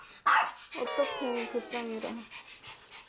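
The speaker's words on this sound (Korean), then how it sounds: "짖으며 존재감 뽐내는 사랑이에게 인사를 건네보는데요" A small Maltese dog confined indoors gives sharp barks and drawn-out whining yelps at close range, while someone speaks over and around the sounds.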